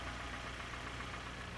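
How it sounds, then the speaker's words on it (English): Running engine with over-advanced ignition timing, idling steadily with a continuous, close mechanical clatter of spark knock and no pauses. "advancing the timing increased the noise in this engine"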